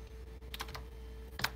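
Computer keyboard being typed on, a few quiet scattered key clicks over a low steady hum, close and brief, no talking.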